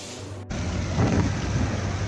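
Heavy rain pours down steadily in Khariar Road town, with a deep rumble of thunder swelling midway and rolling on beneath the constant wash of the downpour.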